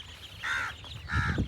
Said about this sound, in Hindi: ऊपर ही जो हमारे पास क्रो भी है